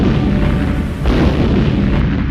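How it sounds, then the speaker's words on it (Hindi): Huge bomb blast in a horror story scene where a skeleton triggers a set of bombs: a loud, continuous roaring rumble with a sharp burst about a second in, heavy low-end boom sustained throughout. "धमाके की आवाज बहुत तेज है"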